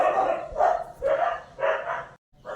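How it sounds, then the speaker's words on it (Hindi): A dog barks and yips in several loud, close bursts with short pauses between them, sounding agitated, with no speech over it. "कुत्ता थोड़ा चिल्लाने लगे थे"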